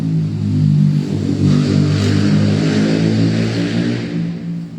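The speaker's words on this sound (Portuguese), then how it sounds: "Essas motos que parecem guitarra distorcida," Motorcycles passing close by on a street, their loud, raspy engines buzzing like distorted electric guitar, a steady rumbling drone that holds for several seconds and eases slightly at the end.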